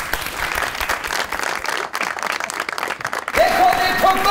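Studio audience applause on the Pakistani comedy TV show Khabardar, a dense steady clapping that fills the clip, with a musical sting rising over it near the end.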